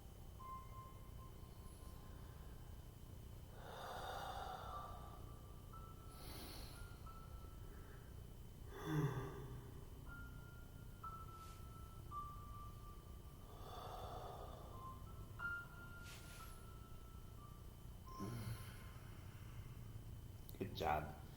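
Slow, deep breaths taken during a yoga session, each soft airy rush rising and fading about every five seconds over a quiet, steady room hum.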